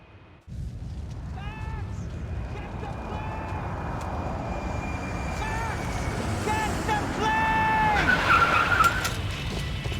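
A car races in the video game Max Payne 3, its engine roaring steadily while tires squeal in several loud, drawn-out screeches that grow more intense toward the end.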